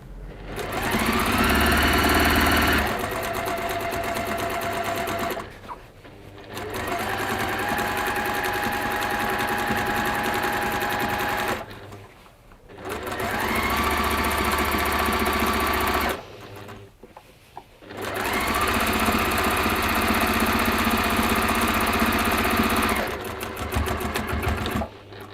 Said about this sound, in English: So when you're doing your free motion embroidery